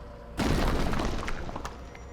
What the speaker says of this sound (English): I'm lifted off my feet by a sudden explosion of light.